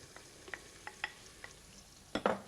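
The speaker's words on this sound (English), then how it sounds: "I've got butter and onion frying here" Butter, onion and blanched tomato fry in a pan, with a faint steady sizzle under a few soft scrapes and taps of stirring and a louder clatter near the end.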